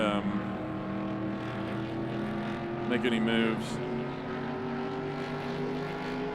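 Race car engines in NASCAR Racing 2 drone with steady, high whining pitches, one car seeming to sweep past midway, while someone talks over the racing noise.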